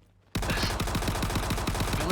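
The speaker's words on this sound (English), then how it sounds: "did I just hear gunfire? Yeah, I was just firing off for fun" Gunfire in a video game bursts in suddenly after a quiet moment: a rapid, steady automatic volley of roughly a dozen evenly spaced shots, loud and close.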